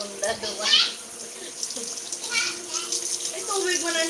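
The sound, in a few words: water pouring and overflowing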